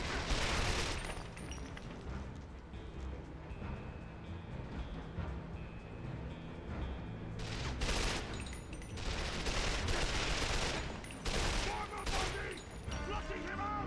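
Gunfire in the PS2 game 007: Quantum of Solace, sharp bursts of shots crackling over busy game background, with heavier volleys around the middle and near the end and some talk mixed in.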